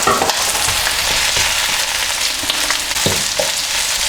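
Onions and carrot stir-frying in a wok, a loud, continuous close sizzle with occasional scraping stirs and clatter.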